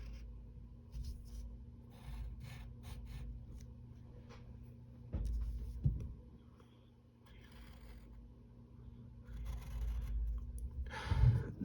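Faint pencil strokes scratch across paper while a Cyclops sketch is drawn, soft rubbing lines in short irregular passes over a low steady hum.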